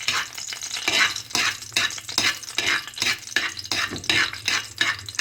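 Cinnamon and cloves sizzle loudly in hot butter for a Chana Daal of yellow lentils, a steady crackling fry broken by repeated stirring strokes of a utensil in the pan.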